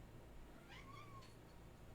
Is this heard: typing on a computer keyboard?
no